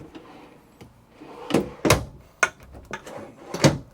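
Large drawers under the TV of an Entegra Class C RV being pulled open against stiff friction locks, giving a few sharp, close knocks and clunks with quiet rustling between them.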